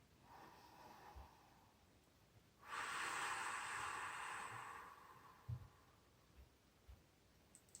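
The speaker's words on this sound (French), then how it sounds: "On inspire et on expire encore." Children breathe together through a stretching exercise, hands raised toward the sky, with a single sustained loud exhale lasting about three seconds, set against quieter breathing and a few soft thumps.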